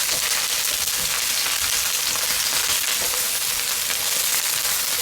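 Eggplant pieces frying in oil in a pan, a steady bright sizzle that holds evenly throughout with no talking.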